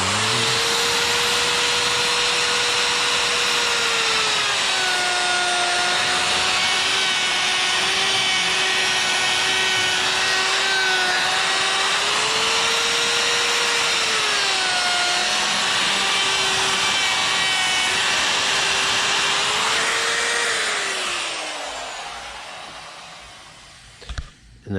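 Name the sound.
chainsaw carving eyes into a wooden bear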